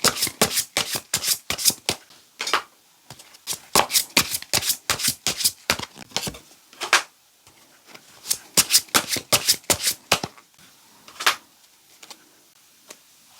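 Tarot cards are shuffled by hand in repeated bursts of crisp riffling flicks, close and fairly quiet, with short pauses between rounds and no talking.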